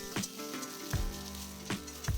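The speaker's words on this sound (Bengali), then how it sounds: "সর্ষের তেলের পরিবর্তে সাদা তেলেও পেঁয়াজ ভাজতে পারেন, তবে আমি সর্ষের তেলেই ভাজলাম" Onions sizzle and crackle as they fry in mustard oil, a steady close hiss broken by a few louder bursts of spitting or stirring.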